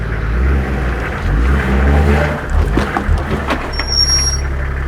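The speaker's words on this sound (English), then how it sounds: "Sean, if you can put it in reverse for me and go back and park the back wheel, the front of the back wheels on that rock again" Low, rumbling engine of a 6x6 Toyota Land Cruiser on Omani off-road terrain, revving and easing back in reverse onto a rock, loud and close with a brief squeal near the end.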